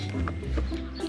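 A backyard farm chicken clucks in a few short, close bursts over a steady low background hum, with no talk during the clucks.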